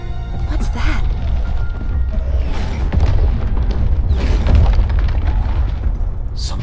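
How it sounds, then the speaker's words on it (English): Low rumbling booms from an explosion somewhere below in the video game Monster Hunter Stories 3, a sustained loud roar with bursts of deeper thuds, heard under a speaking voice. "Something's exploding down there."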